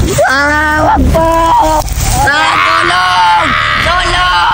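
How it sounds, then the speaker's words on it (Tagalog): A child screams and cries out for help in a comedic TikTok skit, high, strained wails repeated in several bursts, loud and close. "parang may sumisigaw na bata"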